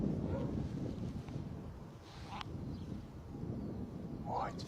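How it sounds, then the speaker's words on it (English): Gusty wind buffeting the microphone outdoors at Bristol Airport, a steady broadband rumble that swells and eases across the moment, with a few faint higher-pitched chirps or calls in the background. "Certainly hear the wind picking up there a bit more."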